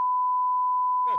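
A censor beep covers a swear word: a single pure, steady tone lasting about a second, loud and clean, with a voice cutting in right as it ends.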